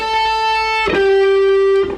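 A clean, sustained electric guitar note on the third string at fret 12 rings out, then a second single note is plucked and held steadily before fading, with no voices.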